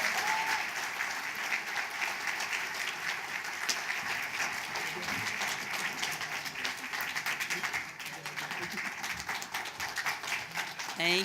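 An audience gives sustained, even applause to welcome Congresswoman Robin Kelly at a 2019 annual meeting, with dense clapping throughout.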